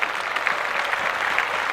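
Steady applause from a small group fills a short moment during a podcast, a dense close clatter of clapping hands at even loudness with no talking.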